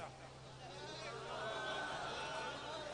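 A man imitating a donkey, his voice breaking into a drawn-out, wavering braying call that rises and warbles for a few seconds, close and fairly loud.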